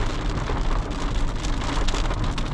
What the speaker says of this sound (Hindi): और ये रही मोटी बरसात शुरू।